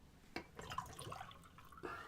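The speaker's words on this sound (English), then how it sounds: "I just pour some more water in" Water poured from a bottle, a faint, quiet trickle and splash with a few brief drips and knocks, heard alone without talk.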